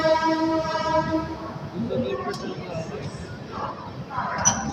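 Sampoorna Kranti Express (12394, New Delhi to Rajendra Nagar) running through Aligarh without stopping, a loud steady rumble of rolling wagons with a sustained horn early on and voices faintly in the background.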